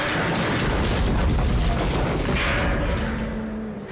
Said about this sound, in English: we're going to activate the bomb and throw it towards that structure